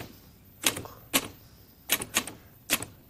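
A typewriter types in short bursts of crisp, close mechanical key strikes, with a few single clacks followed by quick double and triple hits, all separated by brief pauses.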